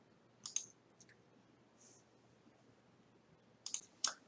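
A computer mouse clicks a few times on an on-screen create button, with sharp isolated clicks: two early, a faint one in the middle, then a quick cluster at the end, in a quiet room.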